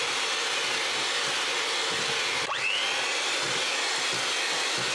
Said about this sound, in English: we should add this and this alternatively to the mixer whilst we are mixing it